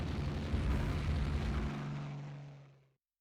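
Torpedo bombers attacking in the naval strategy game Rule the Waves 2: a dense, roaring aircraft drone with a low rumbling boom that holds steady, then fades out over about three seconds.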